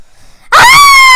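A person suddenly bursts into a loud, piercing scream at a spider photo, sustained and close after a brief near-silent moment.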